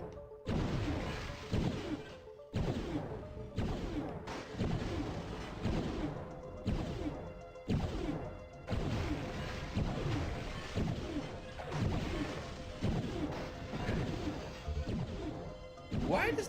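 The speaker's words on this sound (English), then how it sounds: "Why does that glass keep breaking?" Repeated glass smashing and crashing in the dark fantasy game Hexen, a rapid run of sharp loud impacts with brief gaps between them, mixed with other combat noise throughout.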